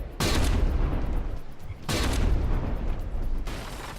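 Cannon shells fired at a turret in From the Depths: two heavy, booming blasts roughly two seconds apart, each leaving a long rumbling tail, with a fainter third hit near the end.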